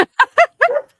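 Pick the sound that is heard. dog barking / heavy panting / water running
dog barking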